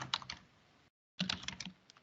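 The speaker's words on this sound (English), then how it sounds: "I'm going to start typing" Someone types on a computer keyboard in two short bursts of crisp clicks split by a moment of total silence, close and fairly quiet.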